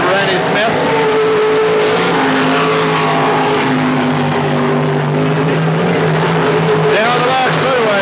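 Race cars roar down the back straightaway at Knoxville Raceway in 1983, a loud, steady engine drone with rising and falling pitch as the field passes, while a commentator talks over it.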